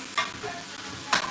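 Vegetables sweat in the pot of a pressure cooker, giving a soft continuous sizzle with a couple of brief stirring scrapes, close by and with no talking.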